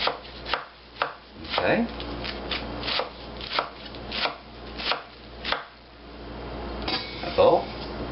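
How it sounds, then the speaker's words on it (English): A knife chops through a stack of spinach leaves on a cutting board in a run of crisp, evenly spaced cuts, close and clear, while a person talks over it. "We're going to chop this whole stack of leaves this way."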